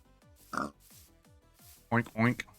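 A pig in the Minecraft DAGmod game gives brief grunting oinks, and a human voice mimics the oinking with two louder nasal bursts over soft, repeated game sounds.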